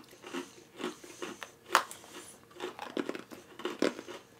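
Crunchy orange-flavoured candy from an Italian snack box is bitten and chewed up close, giving a series of soft crunches with one sharp snap in the middle.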